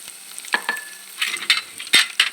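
Ground mustard seed masala hitting hot oil for a tomato rasam, with soft crackling sizzle and a few sharp pops and stirring scrapes, close and fairly quiet, no voices.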